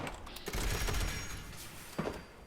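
Railway rifle fire in Fallout 76, a dense burst of loud, rattling shots in the first half followed by a shorter sharp report near the end.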